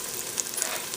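Tomato paste frying in oil in a pan: a steady, close sizzle with faint crackles and small pops, brief and unbroken.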